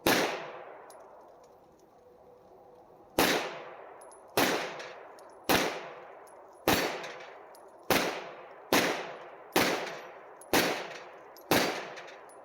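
A Rock Island TCM 9mm pistol fires a magazine of rounds in a near, loud string of sharp, ringing shots, the first alone and the rest about one per second in steady rhythm, with no talk.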